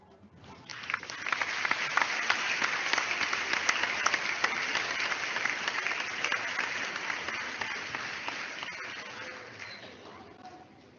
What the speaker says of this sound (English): A resounding applause for our amazing speakers right here.